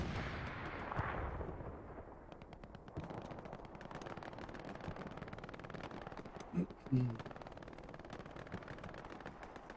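Artillery and machine-gun fire in the Hell Let Loose battlefield, a steady crackle of distant shots and rumbling blasts with a couple of louder, nearer bursts partway through.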